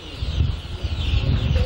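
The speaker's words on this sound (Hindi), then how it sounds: "यहाँ मुर्गी जो सोनाली वैरायटी का है और 1000 चूजा इसमें है" Sonali-breed hens and about a thousand chicks at a poultry farm, a busy overlapping chorus of clucks and peeps under a low rumble of background noise, with no voices.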